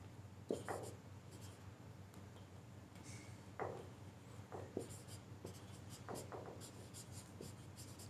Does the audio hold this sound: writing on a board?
yes